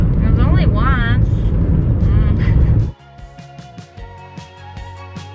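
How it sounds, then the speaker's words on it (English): A car drives through pitch-dark desert at night in Chile, its loud, steady engine and road roar filling the first three seconds under talking and chirpy voices, then giving way to quieter music. "And now we're just driving through pitch blackness."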